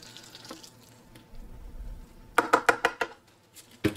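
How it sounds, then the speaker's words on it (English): Water poured onto a freshly repotted variegated Bird of Paradise plant, starting as a soft trickle and splashing, then several sharp spattering bursts in quick succession, close by. "We'll give her some water."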